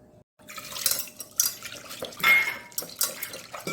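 Toor dal being washed in water in a metal vessel: sloshing and splashing with clinks of grains and metal in irregular bursts, close and moderately loud.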